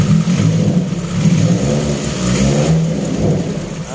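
A car engine revs loudly and up close after its ignition coil wires are swapped positive to negative, the motor still running normally with a steady, throaty mid-pitched roar that rises and eases without interruption.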